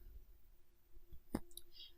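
A single crisp mouse click selects the highlighter tool in Microsoft Word, a short, quiet tick over faint background hum with no talking.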